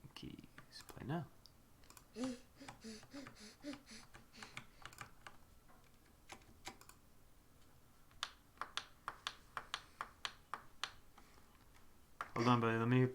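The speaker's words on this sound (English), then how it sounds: "Pressing keys." Someone types on a computer keyboard with a long run of quiet, irregular key clicks and a quick rhythmic burst near the end, while a voice briefly speaks at the start and finish.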